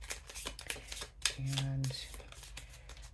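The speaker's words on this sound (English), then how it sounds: "so I shuffle my cards a little weird." A deck of cards being shuffled up close, a soft papery riffle with a brief buzzy flutter in the middle, under a single spoken word.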